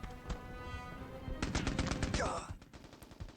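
Machine gun fire from an entrenched gun placement in the video game Mercenaries, with rapid bursts of shots rattling out, a dense sustained volley in the middle, then a lighter trailing burst.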